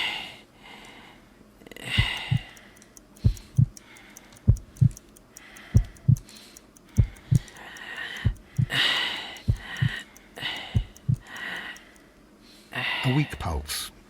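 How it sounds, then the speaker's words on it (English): A slow, regular heartbeat, a weak pulse examined in the Sherlock Holmes: Crimes and Punishments game, thumps as evenly spaced low beats for most of the stretch while a voice speaks over it. "I need to concentrate and count the heartbeats."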